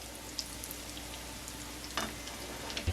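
Corn fritters frying in hot oil give a steady, close sizzling hiss with scattered small pops and a soft clatter near the end.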